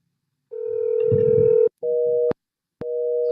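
A telephone ringback tone repeats unanswered, three steady electronic rings separated by short silences, close and clear.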